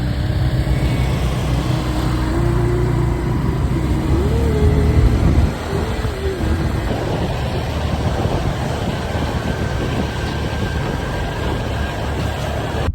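A car climbs the zigzag road in Atimonan, Quezon, with a continuous interior rumble of engine and tires; a rising and falling engine tone shifts through gear changes before the drone drops a little and carries on steadily.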